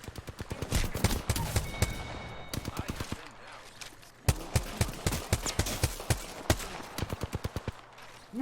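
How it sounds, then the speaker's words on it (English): Rapid bursts of energy-gun fire in a video game, sharp repeated shots in quick volleys with brief pauses between them, loud and close, with speech mixed in at times. "I'm out of bullets for my energy gun."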